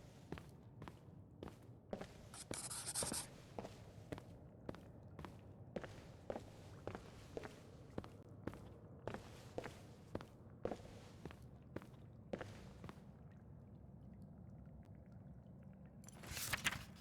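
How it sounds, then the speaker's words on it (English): Footsteps pace along steadily in the video game Skyrim with the Nolvus modlist, each step a soft, distinct thud over quiet ambience, and a few louder scuffs come at the start and end. "You can hear the footsteps, yeah."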